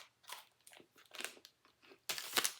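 Close crunching bites and chewing of a crisp milk chocolate peanut butter wafer bar, several sharp crackly bursts separated by brief pauses, the loudest crunch near the end, no talking.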